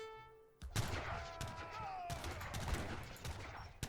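Mortar blasts and musket gunfire in Age of Empires III, with a loud burst of overlapping shots and booming impacts in a dense, continuous volley of battle noise, with a brief tonal in-game sound just before the firing starts.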